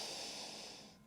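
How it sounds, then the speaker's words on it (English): A single audible breath drawn in through the nose during a yoga downward facing dog pose, airy and steady for about a second, close and fairly quiet. "Breathe in."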